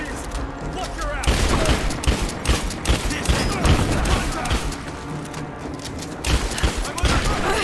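Dense gunfire rattles through a firefight in Tomb Raider, rapid overlapping bursts and shots with booming impacts, loud and continuous, while voices shout amid the shooting.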